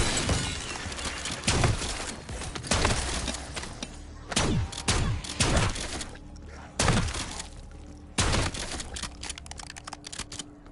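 Rapid gunfire from the video game Black Ops 6, with sharp, loud bursts of shots arriving in irregular clusters every second or two over a steady background of game sound, with no one talking.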